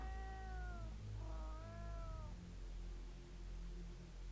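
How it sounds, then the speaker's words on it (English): Two drawn-out meows from a game cat, one after the other, come over a low steady hum, with a softer murmur of ambience after them. "Cats all over the place."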